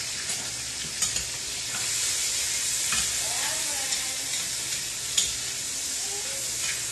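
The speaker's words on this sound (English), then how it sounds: "Now you're just trying to get some good color on this sausage and all of this, so just let it cook" Sausage fries in a pan for Southern-style red beans and rice, a steady close sizzle broken by occasional scrapes and knocks as it is stirred.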